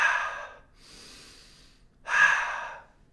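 Slow, audible breaths drawn in through the nose during a calming exercise, two long airy inhales separated by a softer breathy stretch, close and alone with no talk.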